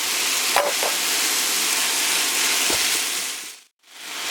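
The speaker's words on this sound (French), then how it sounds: "Quand vous mettez la viande, il faut vraiment la travailler comme ça, pour la séparer en petits morceaux." Minced beef sizzles loudly and steadily in a hot pan for lasting seconds, with a few scraping clicks as it is broken into small pieces, then briefly cuts out.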